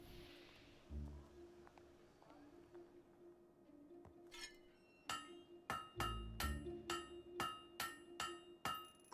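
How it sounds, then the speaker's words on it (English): A blacksmith's hammer rings against metal at a forge in the video game Fable 3, a run of bright, clanging strikes in a steady rhythm, preceded by a few quieter knocks over low background hum. "Great hammer work there."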